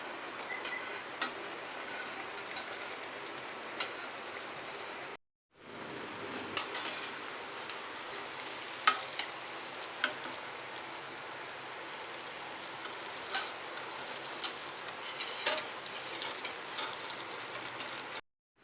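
Athirasam dough fries in hot oil with a steady, dense sizzle and scattered pops and crackles, broken by one brief silence partway through.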